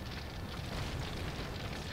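A steady, dense roar of burning flames in the strategy game Anno 1404, with a rumbling crackle that holds at an even, loud level throughout.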